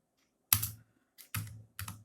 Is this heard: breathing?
no